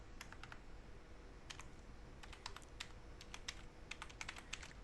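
Computer keyboard typing a command, rapid uneven bursts of crisp key clicks with brief pauses, close and steady over faint background hiss.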